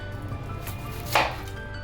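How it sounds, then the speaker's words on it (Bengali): A knife slicing through an onion into round rings on a board in a home kitchen, giving a single soft chop near the end of a quiet stretch. "পেঁয়াজটা আমি গোল গোল করে কাটবো, কুচি কুচি করে কাটবো না"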